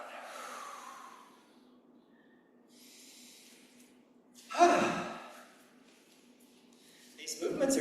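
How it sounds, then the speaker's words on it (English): Slow, deep breaths during a gentle breathing exercise, with a soft airy inhale and a longer, louder exhale, heard close. A calm voice guides the rhythm in between. "Inhale up. And exhale down."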